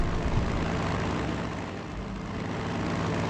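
A tactical bomber drones overhead in the World War II strategy game Strategic Mind: Blitzkrieg, a steady, loud low engine roar that holds throughout.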